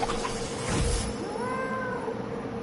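A cat in the Hogwarts Legacy video game gives a drawn-out meow over busy game background sound, close and clear, with no talk during the call.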